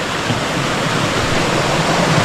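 A forest river rushes over rocks in a steady, loud broadband wash, with no breaks or quieter moments, like a waterfall or stream heard close by with nothing else mixed in.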